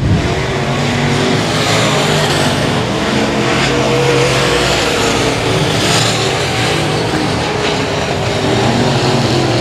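IMCA modified race cars in a dirt track heat race at Cotton Bowl Speedway roar past at speed, a loud, continuous engine drone that swells and fades slightly as the field circulates.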